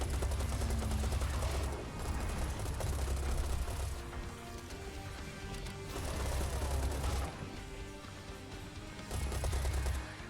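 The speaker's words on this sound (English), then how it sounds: "it actually got killed by the assault rifle" Rapid assault rifle fire in the Serious Sam shooter game comes in loud sustained bursts with brief lulls between them, dense and continuous across the stretch.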